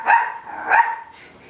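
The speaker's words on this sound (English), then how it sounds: "with a loud little terrier" A loud little terrier barks twice in sharp bursts close by inside a small bathroom, with a quieter yip trailing after.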